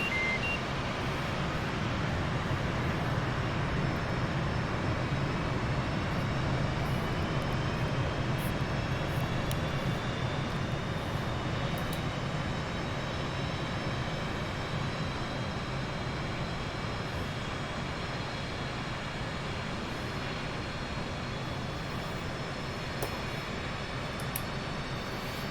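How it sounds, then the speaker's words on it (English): An F/A-18C's left engine spools up in DCS World, a constant loud whine and roar with rising turbine tones layered over a dense hum, lasting unbroken throughout. "let's go ahead and crank the left engine"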